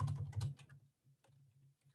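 Typing a command on a computer keyboard, a flurry of close, crisp key taps in the first half, then lighter scattered keystrokes trailing off.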